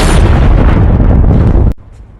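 A single huge gunshot-like blast in a tense film scene, loud and dense with roaring noise for about a second and a half, then cutting off abruptly to a low, quiet ambience.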